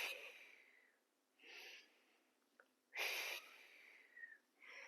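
Two audible breaths out through pursed lips during an at-home mat Pilates workout, each a soft airy rush, the second louder, with quieter breathing between.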